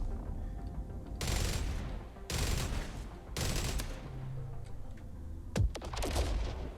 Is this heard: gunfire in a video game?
yes